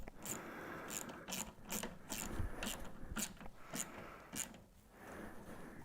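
A ratchet wrench tightens the fixings of an aluminium angle wall mount for a sound bar on an articulated TV bracket, giving repeated sharp clicking bursts in a steady rhythm, fairly close, with no talking.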